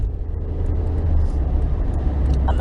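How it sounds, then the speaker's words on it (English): Steady road traffic rumble heard from inside a car stuck in heavy traffic, a continuous low engine and tyre drone with passing vehicles, fairly loud and even throughout, with no talking. "I don't know why the traffic is so bad"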